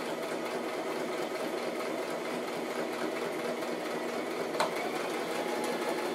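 A sewing machine runs steadily while stitching canvas to a cotton print for a handmade handbag, giving a continuous, even mechanical whir with one brief clack near the end.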